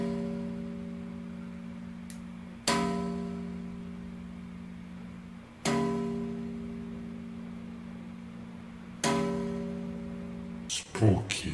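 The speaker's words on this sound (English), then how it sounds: "First sound you've never heard from a bass, the bell sound effect." Bass guitar played with a pick twisted between two strings at the 7th fret, giving bell-like tones: three struck, ringing tones that each decay slowly, followed by a brief burst of rattling at the end.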